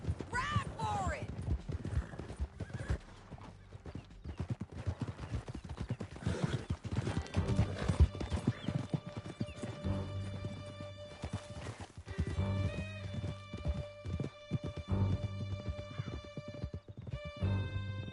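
Horses galloping in the video game Red Dead Redemption 2, with rapid hoofbeats and occasional whinnies running throughout alongside music and characters talking.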